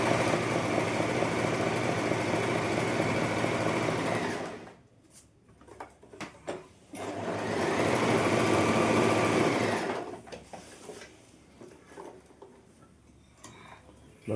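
An Allure DLX sewing machine stitches decorative designs in two long, steady whirring bursts with a fast rhythmic ticking, separated by a pause filled with small clicks and handling noises.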